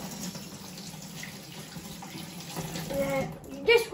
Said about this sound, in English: And then you're going to wash your hands